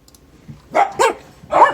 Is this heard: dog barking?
yes